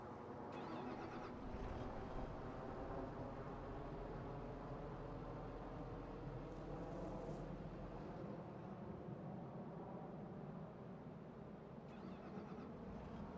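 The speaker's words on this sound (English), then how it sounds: "Blimey, have I had the engine running all this time?" A New Holland tractor engine idles in Farming Simulator 25, giving a steady, faint, low mechanical drone that stays constant throughout with no talking.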